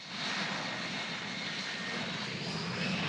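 F-35 Lightning II fighter jet on takeoff, a steady, loud, broadband engine roar that holds constant throughout with no voices.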